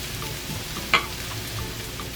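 Potatoes frying in curry in a pan, a soft continuous sizzle with one brief sharp crackle partway through, no voices.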